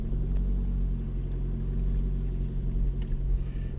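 A car crawls slowly around an allotment at walking pace, its engine a low, steady rumble close by with no talk over it.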